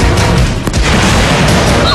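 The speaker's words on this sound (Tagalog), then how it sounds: "Bomba yan, Bob! Bomba!" A car bomb blast in a news report, rendered as a loud, sustained rumbling roar of broadband noise lasting throughout, with a brief dip partway through and no clear separate impacts.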